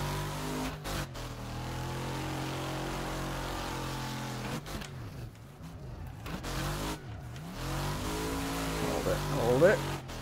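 Car engine in the Wreckfest racing game drones and revs through gear changes with tyre noise while cornering, with brief dips as the throttle lifts and someone talking over it.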